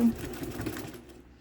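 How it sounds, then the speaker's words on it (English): A sewing machine rattles briefly as it stitches back and forth over a zipper on a double-sided bag, a quick, close mechanical whir that stops abruptly, with a voice speaking over it. "we're going to sew back and forth to hold our zipper in place"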